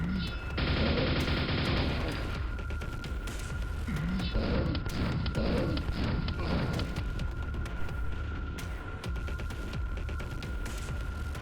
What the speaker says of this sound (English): immediately giving me a nail gun